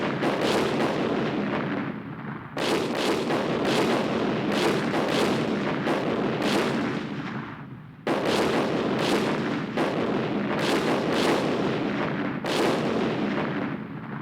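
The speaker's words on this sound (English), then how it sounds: "Soon the guns started shooting." A warship's guns fire in heavy repeated salvos, each blast a sharp broadband crack followed by a long rumbling roar, with about five or six shots that overlap into continuous thunder, loud and near.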